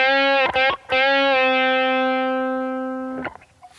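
A single sustained guitar note on the G string with bright harmonics, picked twice, then bent up a half step and held, slowly fading before a short scrape at the end.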